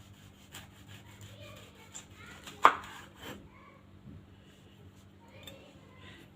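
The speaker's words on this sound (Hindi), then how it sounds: "एक लेमन के हम स्लाइसेस काट लेंगे थिन से" A knife cuts thin slices from a lemon on a board, with soft scraping strokes and one sharper chop in the middle. The sound is quiet and close, and faint background hum runs underneath.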